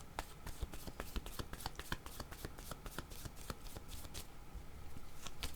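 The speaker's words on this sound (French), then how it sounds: "Je vais demander une carte pour cette femme." Tarot cards shuffled by hand to draw a card, giving a quick, soft, crisp run of riffling flicks and taps that continues steadily and close at low volume.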